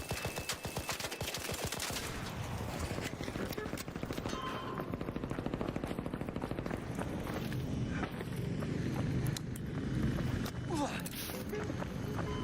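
Rapid gunfire from another player in a battle royale shooter match, bursts of automatic shots and footsteps, fairly loud and continuous throughout with some mid-range clatter.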